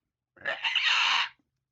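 A single voice lets out an imitated blood-curdling scream, a loud, shrill, sustained cry of about one second that starts abruptly and cuts off.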